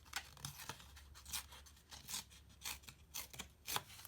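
An edge of paper torn in short, close, quiet rips, several strokes in quick irregular succession.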